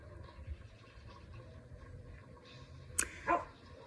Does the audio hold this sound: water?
no